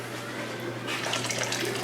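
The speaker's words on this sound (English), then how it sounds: "I'm going to add about 2 cups of water to it, y'all." About two cups of water pour into a pot of gumbo, a steady close splashing rush that grows slightly brighter and fuller partway through.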